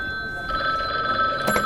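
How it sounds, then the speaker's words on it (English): A telephone rings as a radio drama sound effect, a steady bright electronic trill holding for over a second before a short clatter near the end. "Ah, and there's my phone."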